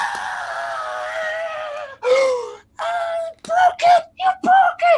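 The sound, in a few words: voice imitating a blood curdling scream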